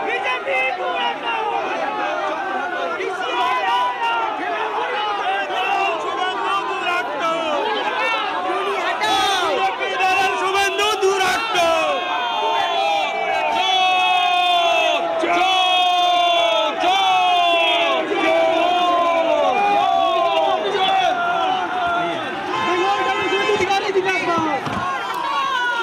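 A large crowd of pro-Trinamool BLO workers loudly chanting 'chor chor' slogans at Suvendu Adhikari, dense overlapping shouting voices in repeated rhythmic bursts, close and sustained, with more chants and cries rising midway.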